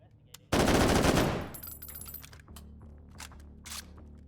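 Machine gun fire in the VR shooter H3VR: a sudden, loud, dense burst of automatic shots runs for about a second, then fades into ringing echo, faint clicks and a few softer follow-up sounds.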